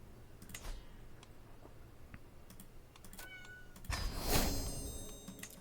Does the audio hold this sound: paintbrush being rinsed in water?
no